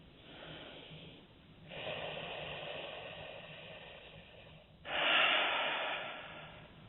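Slow, deep breaths during a guided meditation, two long audible inhales or exhales close to the microphone, each a soft airy rush over a faint steady background hiss.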